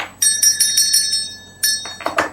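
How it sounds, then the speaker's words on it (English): A small bell rings out in a quick series of bright metallic dings, several rapid strikes, a pause, then a few more, close and clear with no talking. "Let's have a bell for Australia."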